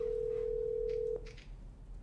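A steady telephone tone leaking through an open microphone at a panel on Native homeownership, holding unbroken for about a second before cutting off, with faint room noise and brief clatter after.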